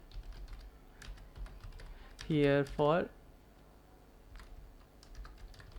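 Clicky taps on a computer keyboard come in irregular bursts, close and fairly quiet, as someone types a link label into code. Someone speaks briefly over them midway.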